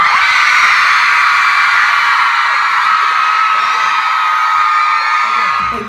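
A concert crowd on a tour stop in Seattle screams and cheers loudly and continuously, a dense wall of high-pitched shrieks and whoops that holds steady for several seconds before cutting off at the end.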